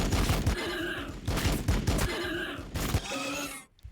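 Storm bolter fire from the Warhammer 40,000: Battlesector video game comes as loud, rapid volleys of gunfire in repeated bursts with mechanical clatter, ending in a sharp cutoff, with no voices.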